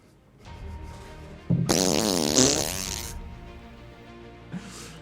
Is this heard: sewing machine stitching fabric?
no